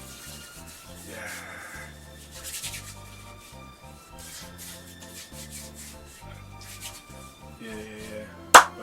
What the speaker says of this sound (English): I was just moisturizing my hands